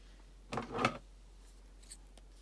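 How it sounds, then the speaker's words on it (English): Scissors snip through a ribbon tail while a four-loop butterfly bow is being made, two quick close cuts in a burst of about half a second, then near silence with a faint tick. "Twist and cut my tail at about 8 inches again."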